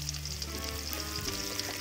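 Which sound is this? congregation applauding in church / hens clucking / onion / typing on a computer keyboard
onion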